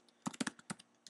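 Crisp clicks from a computer keyboard, typed in a quick uneven burst of about eight keystrokes to rename a Photoshop layer, close and quiet in an otherwise silent room.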